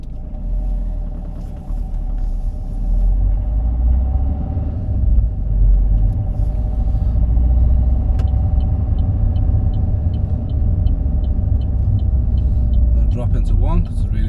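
A car drives slowly along a small residential road in first gear during a driving test, its engine rumbling low and steady throughout, with faint ticking of an indicator near the end.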